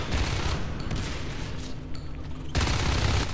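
Rapid bursts of shotgun fire in the alien-versus-marine shooter Natural Selection 2, loud and dense, with a steady barrage that briefly thins mid-clip before resuming heavily at the end.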